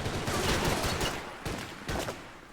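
Rapid gunfire from a firefight in the video game Max Payne 3: a dense stretch of overlapping shots, then two more short bursts after a brief lull, loud and close, with no talking.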